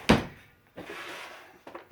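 A junk drawer in a workshop is pulled open, with a sharp thunk followed by a sliding rumble and a second short clatter of tools shifting inside, close and fairly quiet.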